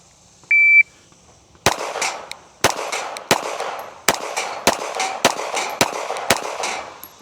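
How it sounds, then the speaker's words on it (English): A Smith & Wesson Bodyguard 2.0 .380 micro pistol fires about ten sharp, loud shots at a steel plate rack, spaced at an irregular quick pace, each crack followed by a ringing plate hit, after a short electronic timer beep. "I'm going to do a quick little plate rack with a 380 micro pistol and see how it goes"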